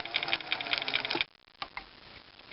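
Domestic sewing machine stitching binding onto a quilt, a close, steady rapid whir for about a second, then stopping, with a couple of faint clicks afterward.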